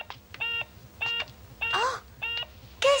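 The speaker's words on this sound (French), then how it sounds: "Le téléphone sonne." Telephone ringing in short repeated electronic bursts, a regular pattern of three tone pulses with brief gaps, close and fairly clear, with a couple of squeaky synthetic sounds between rings.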